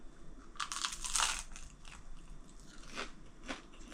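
Crunchy bites into a homemade whole wheat sourdough loaf, a cluster of crisp crackling crunches followed by a couple of sharper single bites, close and fairly quiet, with no talking.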